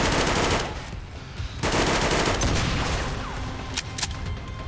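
XCOM 2 gunfire: a loud burst of rapid automatic shots, then a brief lull, then another sustained rattling volley with a few sharp cracks near the end.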